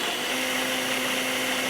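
A blender grinds almonds and pistachios for kulfi falooda, a steady loud whir with a constant hum that runs unbroken from start to finish, close by.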